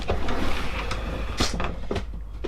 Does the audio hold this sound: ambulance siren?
no